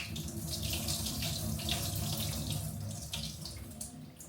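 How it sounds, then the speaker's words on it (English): Water is poured off from a pot into a sink in a steady, continuous rush that splashes and gurgles for several seconds, close and moderately loud, with no talking. "Take it out and literally just pour the water off."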